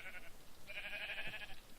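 Two short bleats from a Minecraft sheep as it is struck in the game, the second longer and louder, over a steady low background.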